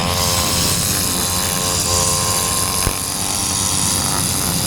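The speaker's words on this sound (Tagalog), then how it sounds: "yun po yung nagkakat ng mga grass cutter na parang jet ski" Ride-on grass cutter shaped like a jet ski, running steadily nearby with a continuous buzzing engine drone and a sharp click near the end, no talk.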